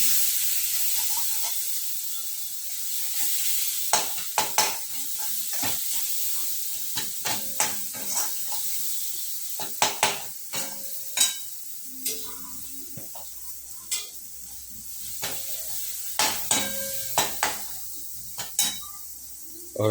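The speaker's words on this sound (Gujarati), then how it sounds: "મરચું, હળદર, મસાલો મિક્સ કરશું આપણે. દન મિક્સિંગ કરી 1-2 મિનિટ માટે ફેરવશું." A spoon stirs chili powder, turmeric and masala through lilva tuvar dal (green pigeon pea dal) in a hot pan, giving a steady sizzle broken by repeated sharp scrapes and clacks against the metal, close and fairly loud, with no talking.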